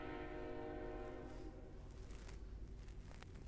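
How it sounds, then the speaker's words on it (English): A train horn sounds as a sustained, steady tone for about a second and a half and then fades into low rail rumble, faint and distant overall. "think when the train is blowing its brains out over here?"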